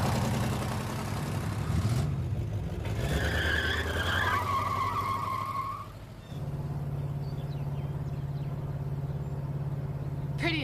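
A 1966 GT car with 40,000 original miles and its engine bored out to 305 runs with a steady, rumbling drone, with a higher whining pass partway through and a deep, even idle afterward.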